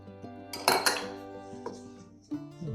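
Biscuit dough ingredients of flour, salt, sugar and baking soda being mixed in a bowl, with a few clinks and scrapes of a utensil against the bowl and quieter stirring between them.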